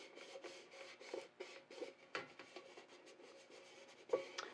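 Cricut craft vinyl is rubbed down onto a surface by hand in a run of quiet, rhythmic strokes, soft scraping swipes repeating close by with no talking.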